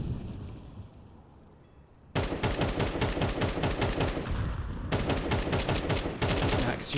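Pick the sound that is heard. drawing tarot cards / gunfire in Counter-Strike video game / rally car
gunfire in Counter-Strike video game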